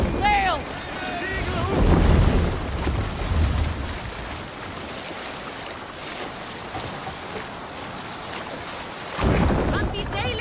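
A sailing boat rides rough waves in Assassin's Creed Valhalla, with water rushing and wind buffeting the hull. The surge swells early and again near the end, and a voice calls out at the start and the close.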